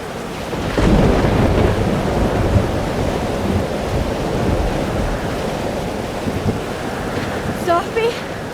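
A thunderstorm in the video game Life Is Strange: Double Exposure: steady broadband rumble and rain-like wash across the whole stretch, with a louder swell near the start and faint chirping sounds near the end.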